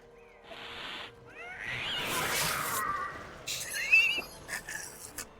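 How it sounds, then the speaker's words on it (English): A cat gives several meows and drawn-out yowls, some rising and wavering, alongside a few brief noises and clicks, fairly quiet and close with no talk. "I'm gonna mess with the cat again really quick"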